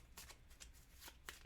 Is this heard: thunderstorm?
no